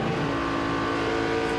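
NASCAR stock cars, among them the Texaco car, race near the finish of the 2004 UAW-DaimlerChrysler 400. A loud, steady multi-car engine roar drones without a break and no one speaks.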